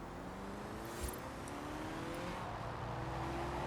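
A small front-wheel-drive car in Forza Horizon 4 accelerates with a faint, steady engine whir that climbs gradually in pitch through a long gear, with no voices over it.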